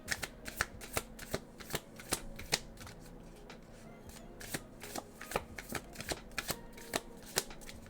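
A deck of soft matte-finish tarot cards is shuffled close up, a quick series of crisp riffling snaps and slaps in an uneven rhythm, loud and alone.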